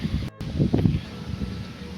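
Wind sweeps through swaying trees beside crop fields ahead of a rainstorm, producing close, low, irregular gusts and rumbling buffeting on the microphone that swell briefly and then settle, with no one speaking.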